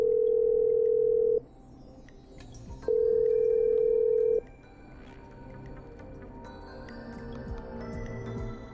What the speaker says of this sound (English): I'm dialing. One moment.